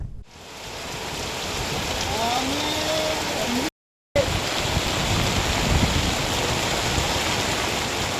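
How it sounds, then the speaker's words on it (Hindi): Steady heavy rain pours down outdoors in Chhindwara during the monsoon, a dense continuous hiss broken only by a brief cut, with faint distant rumbles beneath. "तेज गर्मी के बाद अब हो रही बरसात से धीरे धीरे पारे में गिरावट आ रही है"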